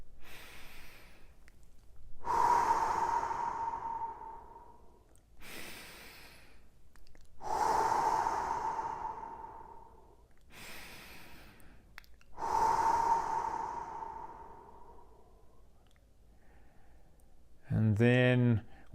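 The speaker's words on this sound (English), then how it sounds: "we're going to take 3 deep breaths again" Three slow, deep breaths during a guided meditation, each a long, soft, airy inhale and exhale with pauses between, followed by a brief spoken voice at the end.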